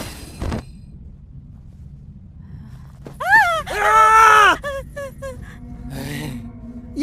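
In a Hindi-dubbed fantasy film scene, a person screams in fright at a skeleton: a short yelp, then a loud sustained scream, followed by several shorter gasping cries and faint background sound.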